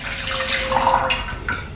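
Herbal decoction mixture made with distilled water poured into a pan, a continuous splashing liquid stream that swells and then trails off, fairly close, without talk.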